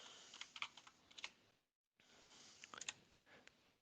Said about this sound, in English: I'll type hi